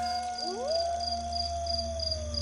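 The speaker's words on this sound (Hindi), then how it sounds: "दूर से आती किसी लोमड़ी की दर्दनाक चीख" Fox screaming in the distance at midnight, a single long rising wail that holds and slowly fades, faint and far off over a steady low hum with a thin high chirping, like crickets, behind it, with no talk.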